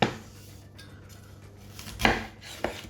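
A knife cuts vegetables for ratatouille on a board, giving two or three sharp, close taps over a quiet kitchen background.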